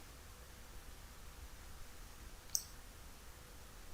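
A single sharp click as the Escape key is pressed on a computer keyboard, brief and close, over a faint steady background hiss.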